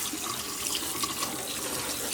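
Steady running water from a tap rinses tie-dyed fabric in a sink, a constant close splashing wash with no break in flow.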